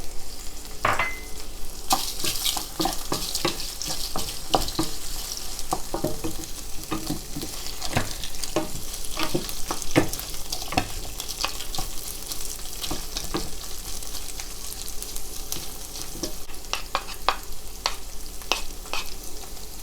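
Peppers stir-frying in hot flavored oil for Szechuan shrimp, a steady close sizzle with repeated sharp scraping clicks of a utensil against the pan throughout, no voices.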